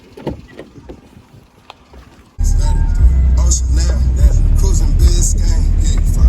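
A bus on a mountain road near Malana, India: quiet outdoor ambience gives way abruptly to a loud, steady, close engine rumble with road noise, and faint voices are present.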